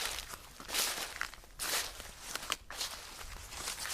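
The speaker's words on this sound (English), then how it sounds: "He was still able to hear the footsteps." Footsteps scuff and crunch near a service road in the woods, uneven steps with shuffling bursts at a moderate distance, steady and unaccompanied by voices.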